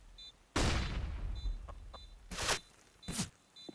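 Counter-Strike gunfire on the Inferno map during a competitive match: a heavy burst of shots followed by two more sharp volleys, loud and close, with no talk.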